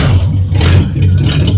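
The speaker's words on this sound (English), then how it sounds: "a quarter turn is enough to start a flathead" A carbureted flathead engine runs loud and close on a cold morning, with a steady low idle rumble, some clatter and a slight rise in revs.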